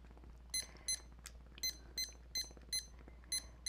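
A kitchen timer beeps as it is set for ten minutes during cooking: a series of short, high electronic beeps in quick, fairly regular succession, near and moderately loud over a faint low hum.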